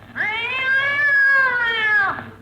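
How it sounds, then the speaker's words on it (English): A cat gives one long, drawn-out, wailing yowl, close and loud, rising at the start and falling away at the end. "Don't step on that cat's tail."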